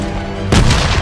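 A bomb detonates in a World War II battle scene, a sudden loud boom cutting in about halfway through and leaving a broad rumbling roar in its wake.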